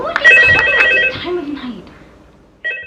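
An old telephone rings in the horror game Valox FNAF VHS, a loud electronic trill that fades out, then starts ringing again abruptly at the end.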